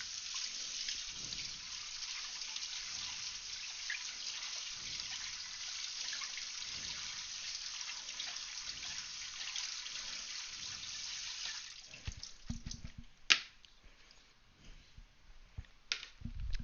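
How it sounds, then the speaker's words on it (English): Cold water runs steadily from a kitchen tap over cooked beans in a colander, a soft continuous splash that turns into a few sputters and drips as the flow stops. "I'm going to run some cold water over the beans so they stop cooking"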